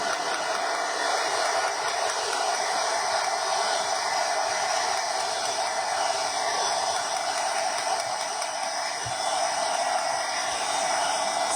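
A hair dryer blows a steady, even hiss for the whole stretch, close and constant, drying a freshly painted stencil transfer, with no voices over it.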